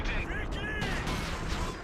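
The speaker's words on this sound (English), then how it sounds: "Artillery barrage on the enemy" Artillery barrage in Company of Heroes 2, a dense, continuous rumble of heavy blasts and gunfire filling the whole moment at steady loudness, with a voice talking over the explosions.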